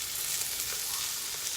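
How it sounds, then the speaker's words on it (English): Steady sizzle of Alfredo sauce being whisked on a hot Blackstone griddle for keto chicken Alfredo, a continuous close hiss without pauses or speech. "And then we're going to whisk that in too"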